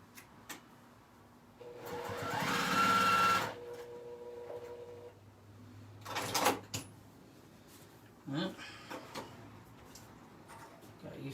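Sewing machine stitching a diaper bag: a short whirring burst of stitching, followed by clicks, clatter and handling noises, with a faint voice in the background.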